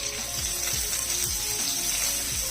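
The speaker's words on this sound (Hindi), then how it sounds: "अच्छी तरह इसको मैं फ्राई कर लूंगी" Chicken pieces frying in a pan with chopped onion, a steady loud sizzle with soft periodic stirring thumps, no voices.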